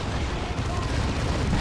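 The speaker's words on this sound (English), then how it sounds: "That Assault Cannon can really tear through" Assault cannon fire in the Dawn of War 2 strategy game hammers out as a dense, loud barrage of rapid booming shots blending with explosions.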